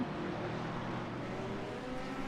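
Race cars accelerate away at the start of a GT3 race at Virginia International Raceway, a dense, steady engine roar from a pack of cars, fairly distant and continuous, with no talk over it.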